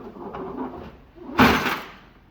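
A refrigerator's bottom freezer drawer slides open in a villa kitchen, one smooth sliding rush with a soft thud partway through, close, after a stretch of quiet room noise.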